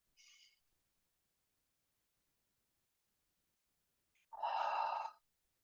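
A person breathes strongly from the diaphragm, with a short breath at the start, a long pause, then one loud, forceful exhale blown out through the mouth.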